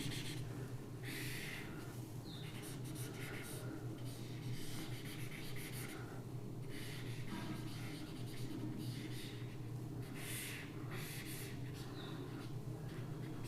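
Board eraser rubbing across a lecture board in steady back-and-forth strokes, a continuous scratchy swish under a low room hum, with no talking.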